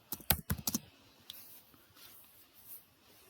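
A burst of quick computer-keyboard keystrokes, several sharp clicks in fast succession near the start, then the room falls nearly quiet.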